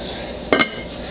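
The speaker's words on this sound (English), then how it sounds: "So I'm going to put the lid back on too." A lid set back onto a pot of wine-braised oxtails makes a short, close metallic clank of two quick knocks, alone with no talk.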